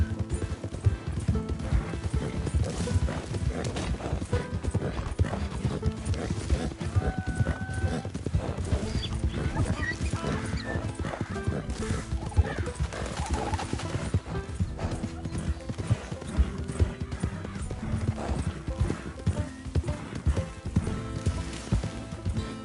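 Clip-clop of a donkey's hooves with an occasional whinny from the animal in the Western game Red Dead Redemption 2, steady and close, set against a busy, continuous in-game background.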